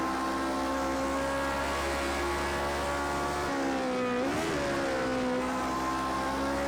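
Race car engine from a racing video game drones steadily around a track, with a loud sustained tone that dips and swings in pitch midway as the car slows through a turn, then climbs again.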